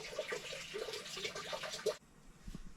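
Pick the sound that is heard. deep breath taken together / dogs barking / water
water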